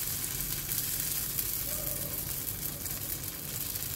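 Rice and radish batter sizzles steadily on an oiled pan, a continuous close hiss and crackle of frying with no talk.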